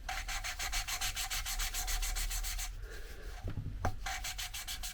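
Valve seat lapped by hand on a VW T3 TDi cylinder head, a close, steady gritty rubbing in quick back-and-forth strokes, pausing briefly for a couple of knocks before the scraping resumes.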